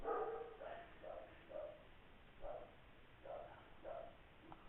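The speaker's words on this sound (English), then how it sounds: "My dogs are watching out the window and barking at who knows what." Several dogs bark indoors at something outside a window, a string of short, moderately faint yaps and woofs spaced about a second apart with no one talking.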